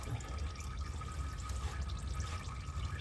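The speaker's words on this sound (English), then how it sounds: "I'm gonna let that drip for a minute" Liquid dripping off a top-shaft part from a John Deere 4230 synchro range transmission, a faint, steady trickle and patter of drops in a quiet workshop.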